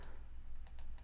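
Mouse clicks in audio editing software, three crisp, sharp clicks near the end of the second, close and distinct over a low steady hum.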